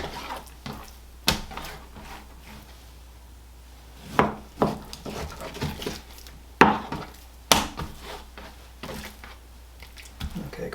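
A knife cuts steaks from a beef sirloin tip on a board, giving scattered sharp knocks and thuds at irregular intervals over a quiet background, close by.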